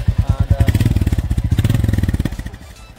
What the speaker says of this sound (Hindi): फिर आप अगर इसको यहाँ पे लेके आएंगे तो बाइक ऑन होगी like this